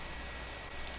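Two quick, crisp clicks of a computer mouse close together near the end, faint over a steady electronic hiss.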